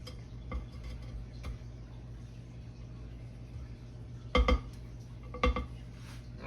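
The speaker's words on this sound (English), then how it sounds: "we're gonna scrape this down again" A utensil scraping around the rim of a mixing bowl, soft background scraping broken by a few sharp clinks and knocks against the bowl, two louder clusters standing out near the end.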